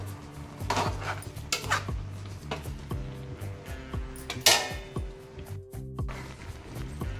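A metal spoon scrapes and clinks against a pan while stirring a mixed vegetable bhaji, with a series of sharp taps and softer scraping strokes at close range and no talk.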